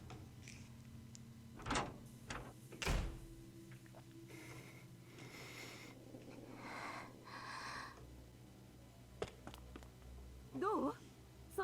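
Door opening sound effect from the visual novel game Chaos;Child, heard as a few sharp knocks and thumps with scraping bursts and voice acting mixed around them.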